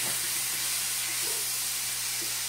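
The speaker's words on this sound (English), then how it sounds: "We're going to saute those until they're nice and tender" Onions sautéing in a pan as part of a chicken cacciatore, giving a steady, loud hiss and sizzle with no break, close up and without talk.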